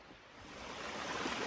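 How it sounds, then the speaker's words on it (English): Piper Creek, a small woodland stream, rushing in a steady broadband wash that grows slightly louder over the moment, with no voices. "It's called Piper Creek. Glorious little stream."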